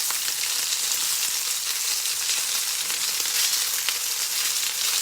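Chicken sizzling and crackling steadily in a hot frying pan, a dense, even hiss of fat with small pops throughout, close and fairly loud, no voices.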